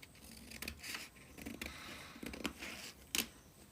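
Scissors cut through fabric for a straight gown with a yoke, giving a series of quiet crisp snips at uneven intervals over light room noise, with no talking.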